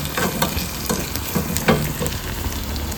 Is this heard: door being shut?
no